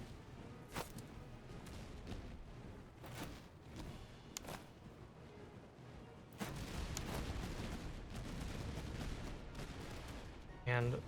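Army gunfire at Lithuanian troops in the video game Master of Command, with scattered musket volleys and booms over a constant rumbling battlefield din, fairly faint and distant.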